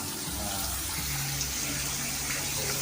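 Water seeps and runs into an underground mine tunnel beside a river, giving a steady, fairly loud rushing wash with no pauses and no talk.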